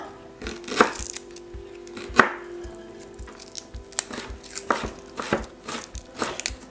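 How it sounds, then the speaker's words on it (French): Fresh unpeeled ginger being chopped finely with a knife on a cutting board for kimchi, a run of close, crisp, irregular knocks of the blade, some sharper than others, with no talking. "Pareil, le gingembre, lui, alors on enlève pas la peau, c'est pareil. Faut le hacher."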